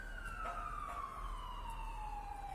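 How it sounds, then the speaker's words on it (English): Ambulance siren passing in the distance, a steady wailing tone sliding gradually downward in pitch as it goes by, faint against a constant background hum. "There's about to be an ambulance passing."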